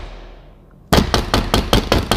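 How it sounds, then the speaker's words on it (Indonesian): Loud, sharp banging knocks hammer on the door of Benny's house after a quiet lull, about six heavy blows in an uneven rhythm, close and forceful. "Ada yang gedor rumahnya Benny, teman."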